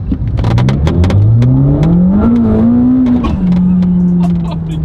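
Supercar accelerating hard, its engine note climbing steadily in pitch with a whining transmission tone, loud and close, then leveling off into a sustained high drone.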